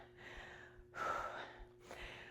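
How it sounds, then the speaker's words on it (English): Heavy, ragged breaths after a set of dumbbell exercises at home: three close, loud exhalations, each a short gasping burst separated by brief pauses. "I apologize for any heavy breathing"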